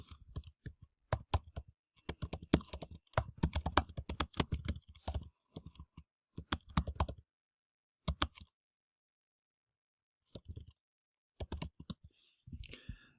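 Fingers typing on a computer keyboard in quick bursts of close, crisp clicks, broken by short pauses and longer silences, with a few scattered keystrokes near the end.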